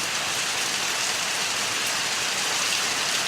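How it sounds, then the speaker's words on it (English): Rain falls steadily as a dense, even hiss of drops on surfaces, continuous and fairly loud throughout with no voices. "And it's raining, so excuse us here,"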